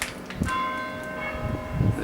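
A church bell rings once in Portugal, a clear tone with a long sustained ringing decay, alongside faint background noise and brief thumps.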